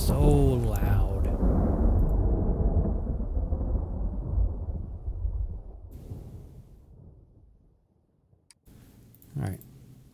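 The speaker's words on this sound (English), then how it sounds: "that thunderstorm is so loud" A loud video-game thunderstorm opens with a heavy rumbling thunder roll that slowly fades into quiet, followed by a later, smaller crack of thunder.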